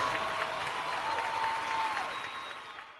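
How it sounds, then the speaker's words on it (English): A small crowd gives a burst of hand claps and applause for a radio show, steady and moderately loud for about three seconds, then fading out. "Give me some hand claps or something."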